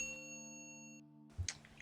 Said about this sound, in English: Please use your bell, Sovereign Soleotch.